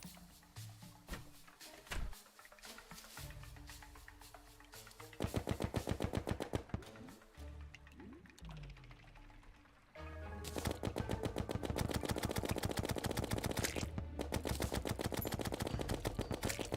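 Rapid gunfire in Terraria rattles in long bursts of quick repeated shots, with short pauses, then sustained heavy volleys near the end.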